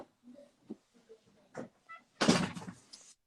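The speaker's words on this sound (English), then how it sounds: "Close the door." A door pushed shut indoors, a solid thunk with a brief rattle near the end, heard after a few scattered small noises and soft voices.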